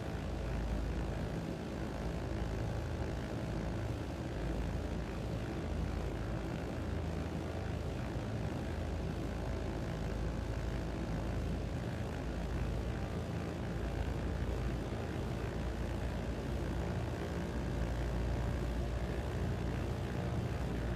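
Britten-Norman BN2A Mk III Trislander engines idling at low throttle around 1,000 to 1,200 RPM, a steady, even propeller drone with a rough rumble that holds unchanged throughout, no talking.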